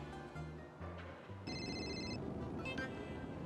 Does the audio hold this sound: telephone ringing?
yes